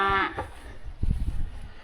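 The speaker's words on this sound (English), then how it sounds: "There's 1 or 2 cows that'll beller a little bit." Cattle on a farm during corn silage season moo twice near the listener, a long harmonic bellow followed by a shorter lower one, then rumbling low calls and shuffling.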